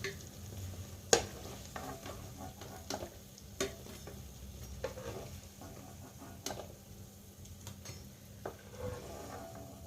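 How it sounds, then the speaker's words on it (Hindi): Aloo tikki potato patties fry in a pan of oil with a soft steady sizzle, punctuated by sharp clicks and taps of a utensil against the pan, fairly faint and without speech. "इसी तरह से हम अपनी सारी टिक्कियों को सेक लेंगे"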